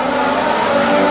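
Formula 1 race cars scream past at the Singapore Grand Prix night race, a loud, continuous high-pitched engine whine close by, with no talking.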